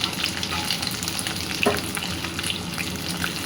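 Capsicum, onion and green chili stir-fry in a hot pan with a loud, continuous sizzle, broken by the clinks and scrapes of a stirring spoon.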